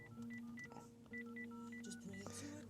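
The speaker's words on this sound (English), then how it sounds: "So what I'm gonna do is I'm gonna call my phone" A phone call dialed from inside a Ford Mustang: a quick run of short touch-tone beeps in uneven groups, faint and close, over a low hum and a steady tone.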